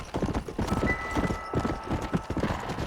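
Horse hooves clip-clop at a steady gallop in the Wild West video game Red Dead Redemption, a rapid, even rhythm that stays close and loud with faint ambient noise behind.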